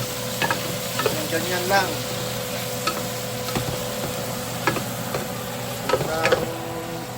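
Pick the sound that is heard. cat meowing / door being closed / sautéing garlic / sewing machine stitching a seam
sautéing garlic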